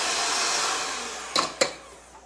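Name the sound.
electric mixer turned up to high speed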